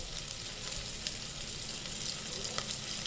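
Grated ginger and green chillies sizzle steadily in hot oil in a pan for masale bhaat, a continuous close frying hiss with small crackles and stirring sounds.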